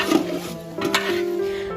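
Chicken being stirred and mixed in a spiced marinade of milk, lemon and ground cumin, a soft wet churning with a couple of light utensil knocks against the bowl, steady and close.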